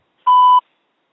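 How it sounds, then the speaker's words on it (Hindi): A single clean electronic beep from a phone IVR line, a steady tone lasting about a third of a second, loud and alone in silence before keypad entry for a quiz show audition call. "अपनी आयु बीप के बाद कीपैड पर टाइप करें।"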